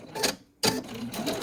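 A sewing machine stitches pieced quilt fabric scraps in quick bursts of rapid mechanical clatter, stopping briefly before starting again, heard up close.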